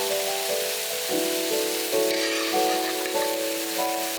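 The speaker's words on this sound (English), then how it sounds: "We're gonna cook these pork belly first, and then we're going to remove it from the wok." Pork belly frying in a hot wok, a steady dense sizzle like rain on a surface, continuous and close with a faint tonal background hum and no talk.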